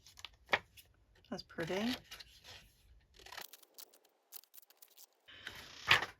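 Scissors snip around paper faux stamps in short crisp cuts and rustling paper handling, close and quiet, with a brief spoken remark between the cuts.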